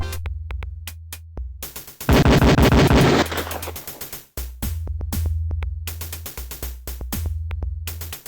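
Pistol fire at a police shooting range in the video game Police Quest: Open Season, with a loud rapid volley and then a string of sharp single shots, close and alone.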